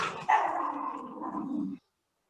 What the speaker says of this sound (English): one of my dogs hit their head